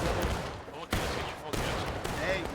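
Musket volleys crack out in a sharp, broad burst of fire during a game battle, with several distinct reports spaced about half a second apart and voices talking underneath.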